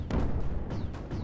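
Loud, rumbling blasts from the Creeper World 4 strategy game as a cannon is destroyed, several heavy booming impacts following one another over a dense low roar.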